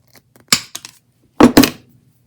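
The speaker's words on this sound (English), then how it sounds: "Here's some wire hanger material. So yeah, it's going to cut effortlessly through that." Channellock or Irwin pliers snip through wire hanger stock in two close bursts of sharp metallic clicks and snaps, near and crisp with silence between them.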